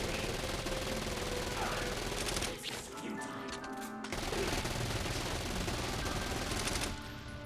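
Dense, sustained automatic gunfire from the game Saints Row: Gat out of Hell, loud and continuous, pausing briefly midway before the barrage resumes, with a voice faintly underneath.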